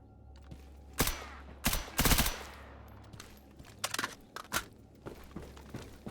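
Gunfire in Mercenary of the Zone, sharp loud shots in short bursts and singles, some rapid automatic strings, separated by quieter gaps with faint shuffling.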